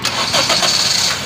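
A petrol Honda City car engine cranking and catching, a steady mid-pitched mechanical rumble with brief rising surges, close and fairly loud throughout.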